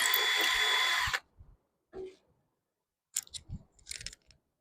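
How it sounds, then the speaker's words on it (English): A power drill bores through an aluminum and fiberglass sign in one steady, high whining burst of about a second, followed by a few faint clicks and taps as the tool is handled. "fiberglass is tougher to drill through than the aluminum."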